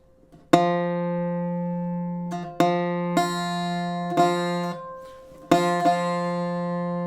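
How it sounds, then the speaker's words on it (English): Plucked guitar harmonics ring out one after another during tuning, each sustaining and slowly fading, with a few quick re-plucks as a slightly flat F string is checked for pitch. "Now I think the F string sounds a bit flat"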